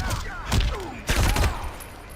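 Bursts of gunfire in the fighting game Mortal Kombat 11, two loud rapid volleys close together with whooshing effects between them, no talking.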